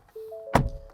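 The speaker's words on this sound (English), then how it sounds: "Door." The door of a 2023 Ford Ranger V6 ute shuts once with a single solid, close thunk after a faint mechanical hum.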